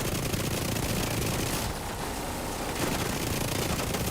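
Enemy minigun in The Division pours out sustained, dense automatic fire, a continuous roaring burst of gunshots lasting throughout with a brief dip in the middle.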